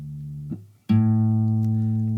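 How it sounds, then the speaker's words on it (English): A low guitar string, the sixth string tuned down from E to D, is plucked and rings out, sustaining steadily after a brief damped note, alone and fairly loud. "I've tuned my 6th string from an E down to a D"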